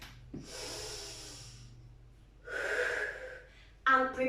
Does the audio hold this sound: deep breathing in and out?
yes